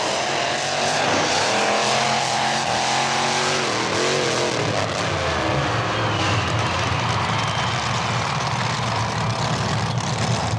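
Monster trucks, Bigfoot among them, roar around a dirt racing track, loud engines revving with rising and falling pitch sweeps, then settling into a sustained heavy rumble.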